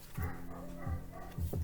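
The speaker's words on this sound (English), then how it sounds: "My dog's like barking and acting up." A dog barks indoors, giving about four short, muffled woofs spread unevenly across a brief stretch over low background noise.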